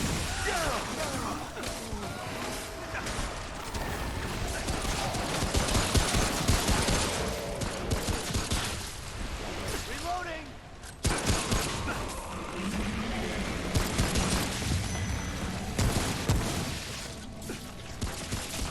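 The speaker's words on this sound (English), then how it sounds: "I'm using a shotgun." Shotgun blasts and crashing impacts in the Stranded Deep survival game, dense and loud over a long stretch with a sharp break midway, busy game noise throughout and no clear talking.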